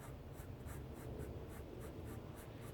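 Colored pencil rubs firmly across textured paper, a soft, close, steady scratching with rhythmic strokes repeating about every third of a second.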